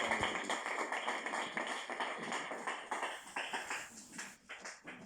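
A church congregation claps together in a steady, dense rhythm of many overlapping hand claps during worship acclaiming Jesus, fairly loud and continuous with no talk over it.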